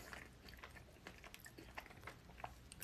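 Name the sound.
chewing food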